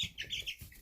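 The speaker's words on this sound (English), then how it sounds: "Kagome is our onagadori, which is an endangered breed of Japanese chicken." Kagome, an onagadori hen of the endangered Japanese breed, gives a short burst of close clucking, two or three quick throaty notes.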